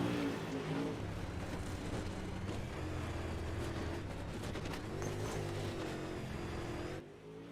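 Dirt track race cars of the DIRTKARS series roar around the track in a sustained, loud engine drone with shifting pitch as cars pass, steady throughout before easing off at the end.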